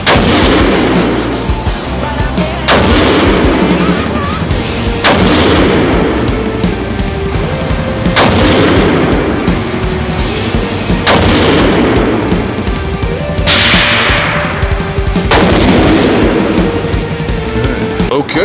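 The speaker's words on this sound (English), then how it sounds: "let's go ahead and do two 5-shot groups with the Varget and Berger 109 hybrids from the correct seating" Five or six loud, close rifle shots from a 6mm GT loaded with Varget powder and Berger 109 hybrid bullets crack at spaced intervals of about three seconds, each one ringing out into a long echoing tail.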